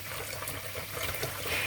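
Water trickling and pouring into a container of rice before cooking, a soft continuous dribble lasting under two seconds, fairly quiet and close, with no talking.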